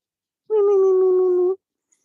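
Jack Russell terrier named Kobe gives a single sustained whining howl lasting about a second, steady in pitch and close to the listener, with silence before and after.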